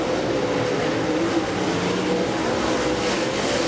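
Race cars on a dirt track crossing the finish line: a continuous loud engine roar throughout, dense and steady, without any pauses.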